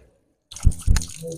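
Water is splashed onto a face with the hands while washing for wudu, two quick close wet splashes after a moment of silence.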